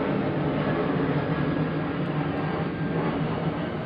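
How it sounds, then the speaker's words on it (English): Aircraft passing overhead outdoors, a steady broad low rumble that holds loud and constant throughout with no voices. "We have a plane going over outside"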